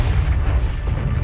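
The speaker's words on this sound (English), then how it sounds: "The explosion sends a trail of fiery fragments toward the continent below." A comet explosion boom rumbles in a documentary, a sustained deep low roar with heavy, loud, continuous rumbling throughout and no speech.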